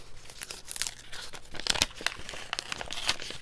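Paper envelope handled and torn open up close, with a run of crisp crinkles, rustles and short tearing bursts continuing throughout.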